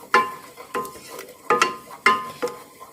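Flour being stirred into melted butter in a pan to make a roux: repeated scraping stir strokes with light clinks of the utensil against the pan, about five strokes in a steady rhythm, close and fairly loud.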